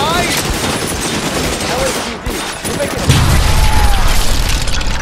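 Rifle gunfire in a 1940s Los Angeles crime video game, L.A. Noire, a dense, loud spray of shots with booming impacts running under voices, growing heavier and louder in the second half.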